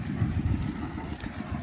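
A borewell drilling rig engine runs steadily at a low, rumbling idle, with a constant mid-level drone and no voices over it.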